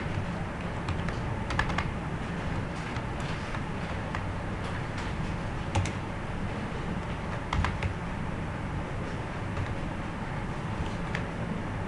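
Steady typing on a computer keyboard while working in Microsoft Word 2007, an even stream of close, light key clicks without pause and with no voices.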